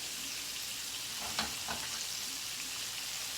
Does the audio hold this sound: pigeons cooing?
no